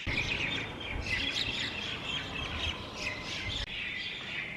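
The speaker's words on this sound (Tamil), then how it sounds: "எவ்வளோ குருவி பாருங்க." Many sparrows chirping together outdoors, a busy, overlapping chatter of sharp calls that continues throughout.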